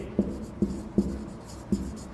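Pen or chalk strokes during a Hindi literature class, five sharp taps spaced irregularly over steady low room hum, close and fairly clear with no talking.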